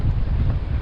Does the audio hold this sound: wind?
yes